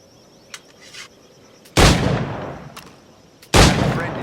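Two loud, close firearm blasts in Assassin's Creed 4 Black Flag, each a sharp crack followed by a long fading rumble, about two seconds apart, preceded by faint clicks and light rustling.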